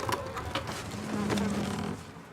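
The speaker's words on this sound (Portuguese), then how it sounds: "Mosquitos rodeiam sua cabeça." Mosquitoes buzzing close around a head, a steady thin whine that swells and drifts for a couple of seconds with faint soft thumps mixed in.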